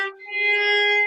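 Single sustained violin note on the D string played slightly flat, near an A flat, as a finger reaches for the pitch; clear, close and bowed steadily for about a second with no talking.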